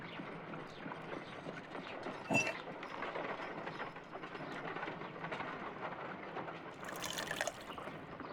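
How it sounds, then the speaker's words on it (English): Water poured into an ice knife mold in a Sherlock Holmes game, a steady liquid trickle with mechanical clinks and a sharp knock partway through, moderately close, no voices. "If I wish to shape the ice knife, then I need to pour water inside the mold."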